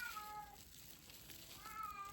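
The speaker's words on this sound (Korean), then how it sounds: "아이고 냥냥이가 화났다" An angry cat meows in drawn-out, wavering cries at the start and end, moderately close, over a steady background hum.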